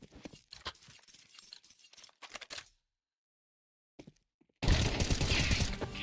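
Gunfire from a shooter video game in a Berserk League match comes as a rapid clatter of sharp shots, then near silence, then a single click, then a loud dense burst.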